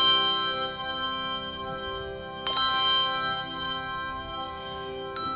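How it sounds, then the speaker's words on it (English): A handbell in C, E or G rings out with long sustained metallic tones, struck twice more as it is swung down toward the ground, the ringing fading and wavering as it dips. "Could you hear the sound go wah-wah away as the bell went down onto the ground?"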